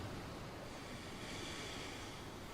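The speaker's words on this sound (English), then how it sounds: "I do loathe the sea. It's so wet and sloppy." Sea waves surge in a steady, dense wash of surf with a wind-blown hiss, continuous and fairly close, with no distinct breaks between swells.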